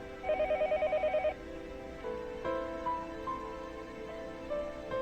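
A telephone rings indoors downstairs in the visual novel Higurashi When They Cry, with a short burst of rapid electronic trills and then a few softer tonal beeps, loud and clear with no talking.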